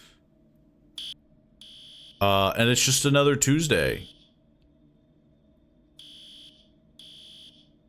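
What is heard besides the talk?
fire alarm in found footage video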